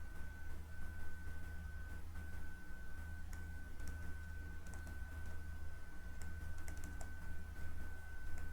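Fingers type steadily on a computer keyboard, a close run of light clicking keystrokes over a constant low hum with a faint high tone.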